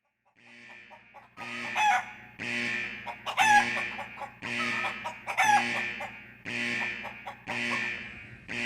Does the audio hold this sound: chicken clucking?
yes